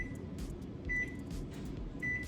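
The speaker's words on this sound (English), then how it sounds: "This is gonna go into the microwave for just 90 seconds." A microwave oven runs with a steady low hum and fan rumble, and two short high electronic beeps sound about a second apart, close and clear, with no talking.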